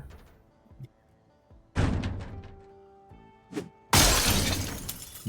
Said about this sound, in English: Sounds like this door is close to giving away.